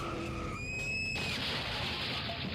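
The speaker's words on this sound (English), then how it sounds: "They crashed a car." Tires skid and screech in a car crash scene from a played video, a sustained harsh scraping wash with fading whine tones, fairly quiet and without talk.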